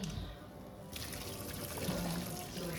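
Foamy cooking water is poured off pork neck bones in a pot, a quiet splashing trickle that swells into a fuller, steady pour partway through, close and unbroken, with no talk.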